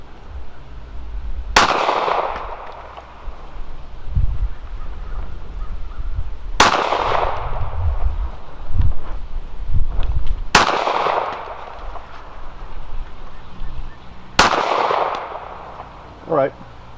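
Four loud, sharp shots from a Beretta Pico .380 pistol fired at a target at 15 yards, spaced a few seconds apart with ringing decay and outdoor background noise between them.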